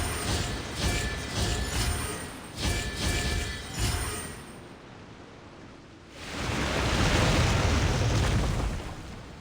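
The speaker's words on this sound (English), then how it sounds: "The water's flowed into the groove" Water rushing and flowing into a stone groove during a puzzle in Genshin Impact, a loud broad surging wash that swells and ebbs in pulses, then a steadier, fuller flow after a short lull.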